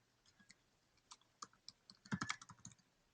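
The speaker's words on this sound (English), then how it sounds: "I'm typing that in" Typing on a computer keyboard: an irregular run of close, crisp key clicks, sparse at first and then a denser, louder burst near the end, with no voices.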